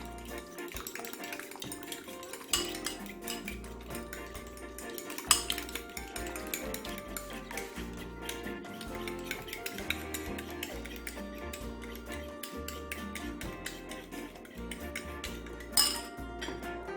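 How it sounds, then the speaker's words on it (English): Eggs for jerk shrimp fried rice are whisked in a bowl, making soft, irregular clinks and taps of utensil on bowl, with a couple of sharper knocks over quiet background music and no speech. "So I'm gonna go ahead and beat my eggs."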